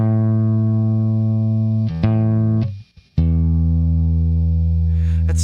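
A single low electric guitar A string, slightly flat, rings steadily through the neck pickup, briefly dips and is plucked again while being tuned, sustaining clearly with no talking.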